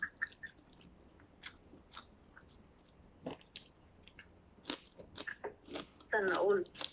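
Someone bites and chews pancit canton noodles during a mukbang, with soft wet mouth sounds and brief crunchy bites scattered through, including a louder burst near the end, alongside intermittent talking.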